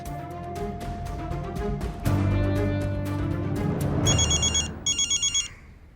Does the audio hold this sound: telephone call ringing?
yes